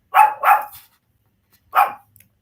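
A dog barks at a man cutting grass in the yard, two quick sharp barks followed by a third after a pause, loud and close with silence between.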